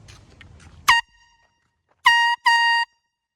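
Air horn blasts in a neighborhood: one short loud blare, a pause, then two longer blasts in quick succession, harsh and close, following some faint background noise.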